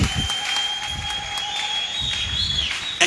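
A church congregation claps and cheers in praise, with rhythmic applause filling the room over a sustained electronic tone from the sound system.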